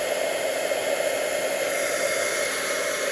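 A heat tool blows a steady, loud broadband whoosh to dry ink on a card during card making, continuous and unbroken with no voices.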